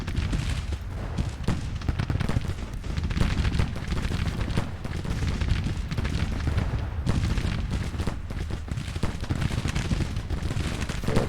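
Dense, continuous musket volleys and booming artillery roll through a Civil War video game battle, loud and unbroken, with crackling gunfire layered over deep rumbling blasts.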